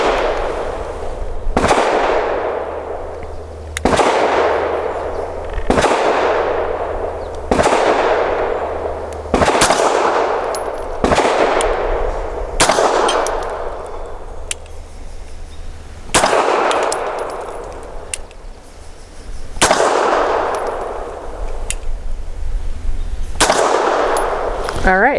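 Five-plus sharp, evenly spaced pistol shots from a Bersa TPR 380 Plus firing Max Tech 95 grain rounds at 7 yards, each loud crack ringing out at a range with a short decaying tail.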